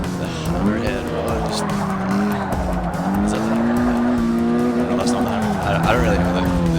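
A Ford Focus ST races in the Forza 6 video game. Its engine drones loudly and rises and falls in pitch as it shifts, with tire squeal through the corners, under a voice talking throughout.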